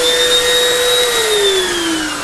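A vacuum cleaner fitted with an air-driven pet paw turbine attachment runs loud and steady, its whine holding level and then sliding slowly downward in pitch over a dense rush of airflow.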